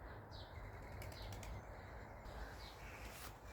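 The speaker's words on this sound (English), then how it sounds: "Is it a dove or is it a pigeon? I think it's a dove." A dove taking off in a graveyard, its wings flapping in a few quick bursts of fluttering over steady outdoor wind and ambient noise.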